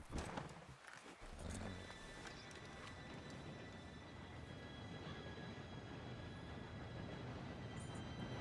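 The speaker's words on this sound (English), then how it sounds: "Train should be here any minute now." A train approaching in Red Dead Redemption 2, a steady rumbling clatter that builds and holds for several seconds, with horse hoof clip-clop and faint background noise mixed in.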